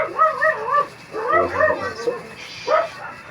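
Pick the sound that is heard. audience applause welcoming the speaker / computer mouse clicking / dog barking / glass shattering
dog barking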